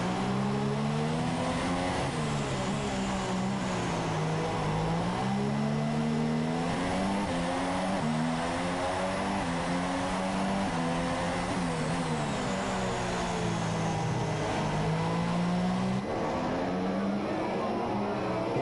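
Formula-style race car engines in a PS4 Singapore Grand Prix race whine steadily, their pitch climbing and falling through upshifts and corners as cars run close together, with commentary running over the top.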